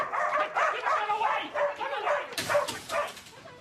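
Dog barking and yipping in a rapid, excited run of close, fairly loud yelps and whimpers that carries straight through with no pauses.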